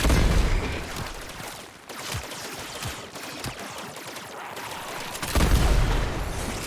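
Gunfire aimed at a robot in Warframe, a loud dense burst of shots at the start, a short lull, then scattered reports and another heavy burst near the end, alone with no voices.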